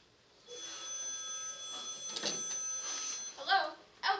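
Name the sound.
telephone ringing in a radio drama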